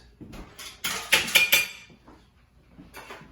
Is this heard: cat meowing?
no